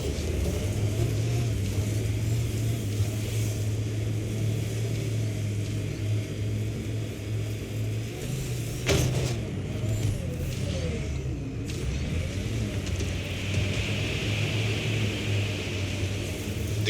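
A vehicle driving across rough terrain in Mass Effect Andromeda, a steady low engine rumble and hiss lasting throughout, with a brief sharp clatter midway.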